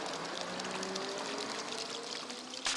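Water pours steadily out of a hole in a small water bag, a continuous trickling stream at moderate level with a brief louder splash near the end.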